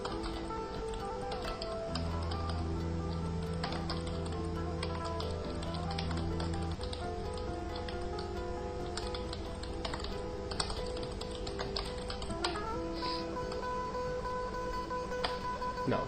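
Computer keyboard being typed on while entering employee names into a word processor, a long run of quick, irregular key taps with brief pauses, close and clear over a steady low background hum.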